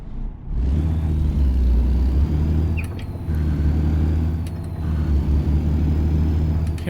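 Truck engine in American Truck Simulator, a loud steady diesel drone with rhythmic low rumble, rising briefly and easing between gear changes, with faint clicks over it and no voices.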